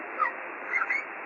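Soft, bird-like chirps from Globy, a small glowing Lumipuff creature, one short chirp followed by a pair of quick chirps over a muffled, band-limited hiss.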